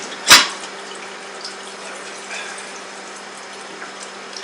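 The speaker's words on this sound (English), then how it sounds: "Might as well just fill up another sink." Water running into a kitchen sink being filled for washing up, opening with a brief bright splash and then settling into a soft, steady hiss with no voices.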